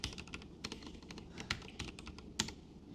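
Rapid typing on a spare computer keyboard, a close, quiet run of uneven key clicks with a few sharper strokes standing out.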